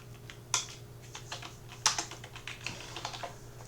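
Rapid clicking keystrokes on a computer keyboard, uneven in rhythm with a few sharper, louder key presses, close and clear over a low steady hum.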